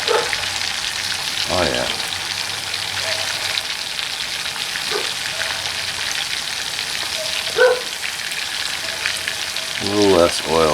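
Food frying in oil in a Stanley fry pan, a steady close sizzle that runs without a break, with a few brief spoken remarks over it.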